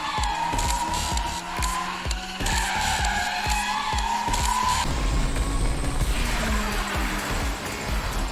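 A video game race car screeches its tires through repeated skids over a loud, continuous engine roar, with rhythmic impacts and no talk.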